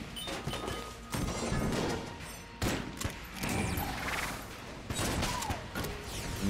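The Gilded Hydra gun fires in the Enter the Gungeon video game in loud, crashing bursts of blasts, with short pauses between the volleys.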